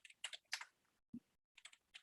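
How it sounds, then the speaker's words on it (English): Short bursts of keystrokes on a computer keyboard as stock ticker symbols are entered, clicking in quick clusters with brief pauses between groups, close and clear in a quiet room. "as I am typing the symbols"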